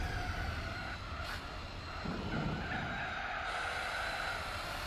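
An Audi RS6 in Gran Turismo 4 slides into gravel: a sustained tire squeal and skid over a constant engine drone, with a rougher gravel rumble partway through, all steady and without talking.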